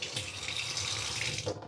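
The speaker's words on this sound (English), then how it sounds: "I'm going to put a little bit of water in here" Water runs steadily from a kitchen tap into a container for under two seconds, a close, continuous splashing stream that cuts off abruptly at the end.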